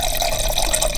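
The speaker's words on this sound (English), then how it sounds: "I'm gonna just mix it with about 8 ounces of water." Water pouring into a shaker to mix lemon-flavored greens powder, a loud, close, continuous gushing rush with no talk.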